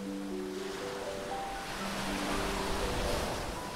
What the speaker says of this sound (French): Bercée par les flots et les clapotis rythmés